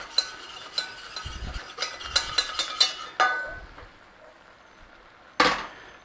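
Chicken lasagna filling stirred in a pan over a low flame, with scattered scrapes and light clinks of a utensil against the pan, then a brief sizzling burst near the end, close up with no talking.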